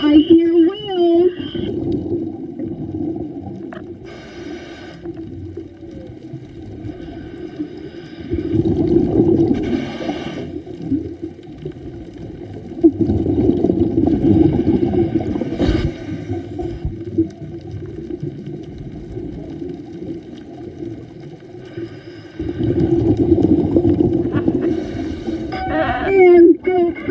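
Whales vocalize underwater during a morning scuba dive at Red Hill off South Maui, Hawaii, at about 22 feet deep; low moans and tonal calls swell and fade across the whole stretch, mixed with bubbling breath noise.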